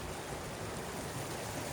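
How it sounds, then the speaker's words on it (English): Steady broadband rush of a stream flowing at Fifth Water Hot Springs near Spanish Fork, Utah, on a winter night, continuous and fairly faint with no voices. "This is Fifth Water Hot Springs near Spanish Fork, Utah."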